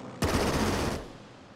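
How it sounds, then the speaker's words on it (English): A Wildcat fighter plane strafes a transport in the strategy game Strategic Mind: The Pacific, producing a loud, dense burst of rapid machine-gun fire that lasts under a second and then tails off. "We'll have this Wildcat strafe the transport."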